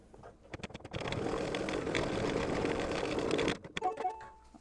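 An embroidery sewing machine stitches a tack-down line on an in-the-hoop mug rug, running at a steady rapid whir for about three seconds after a few starting clicks, then stopping with light handling noises.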